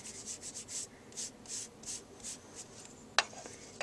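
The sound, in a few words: rubbing peeled paint Distress Crayon onto paper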